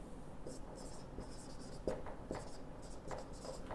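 Chalk scratching and tapping on a classroom board as a teacher writes during a Hindi-medium geography lesson, with short strokes in an uneven rhythm over faint room noise.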